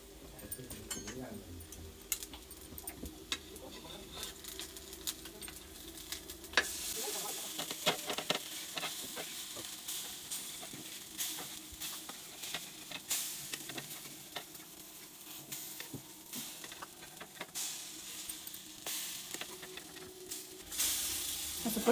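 Ground masala roasting and sizzling in oil in a pan, a steady hiss with stirring scrapes and clicks throughout, fairly quiet, with a voice talking intermittently over it.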